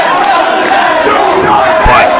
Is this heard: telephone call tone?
no